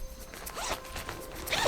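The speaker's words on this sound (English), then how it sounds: "So it has the regular zipper where you open it" A fabric zipper on a packing compression set being pulled open in a series of quick, close rasping strokes, rising louder toward the end.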